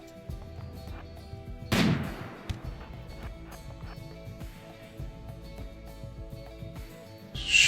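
A RimWorld gunshot cracks out loud and sharp near the start, followed by a quieter stretch of game ambience and another abrupt burst at the very end.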